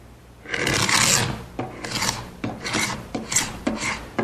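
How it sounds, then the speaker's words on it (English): A paint scraper rasps dried glue off a glued-up oak panel in a series of about six rough scraping strokes, close and distinct, each stroke shorter than the first long pass. "I'm just going to use an ordinary paint scraper"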